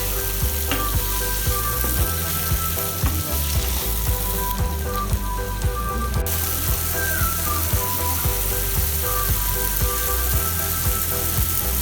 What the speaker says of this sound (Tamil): ஒரு பேனில் 2 டேபிள் ஸ்பூன் அளவுக்கு கடலெண்ணெய் சேர்த்துட்டு நம்ம அரிஞ்சு எடுத்து வச்சிருக்க வெங்காயம், தக்காளி, 2 பச்சை மிளகா, ஒரு கொத்து கருவேப்பிலை, 4லேருந்து 5 பூண்டு பல்ல சேர்த்துட்டு எல்லாத்தையும் நல்லா வதக்கிக்கோங்க